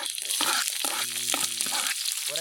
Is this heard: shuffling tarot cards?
no